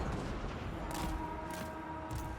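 Cannon fire in a Total War: Warhammer 3 battle, heard as a dense, continuous rumble of battle noise with several louder broadband bursts rising out of it at intervals.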